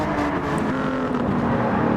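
A pack of race cars roars past close by in a loud, continuous wash of engine noise. It holds steady throughout with no pause.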